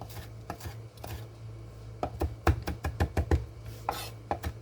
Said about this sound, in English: now we're just going to chop this up really good